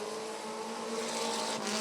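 Race cars in a winged women's feature event at Rockford Speedway build up speed at the green flag, a loud, dense engine roar that swells steadily with a brief tire-squeal edge near the end.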